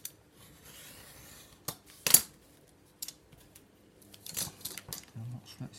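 Scissors snip through card in a few separate cuts, close and fairly quiet, with soft rubbing and handling noises between the sharper snips.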